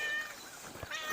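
A cat meows twice in quick succession, close and fairly soft, the cries rising and falling, heard indoors near a microphone.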